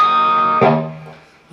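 A ringing bell-like guitar harmonic at the 12th fret sustains, then a second chiming harmonic is plucked on another string and rings out, fading slowly with clear overtones.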